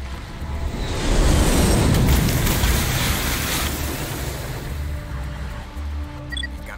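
Water streaming and dripping off the Mako vehicle in the Mass Effect video game, a loud rushing wash that peaks early and eases into a softer, windy roar with a low rumble underneath.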